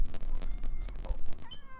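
A cat gives a short meow near the end, rising briefly above a loud, rumbling, muffled background with no speech.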